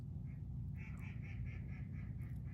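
A duck quacks in a steady run of about eight short nasal calls over a loud low rumble of background noise, moderately distant and with no talking.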